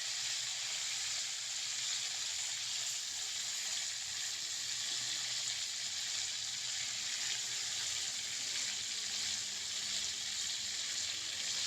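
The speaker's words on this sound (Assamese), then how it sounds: "এইটো ধুনীয়াকৈ ফ্ৰাই কৰিম এতিয়া" Fish sizzling steadily in plenty of hot oil, a constant bright crackling hiss close up with no pauses and no talk.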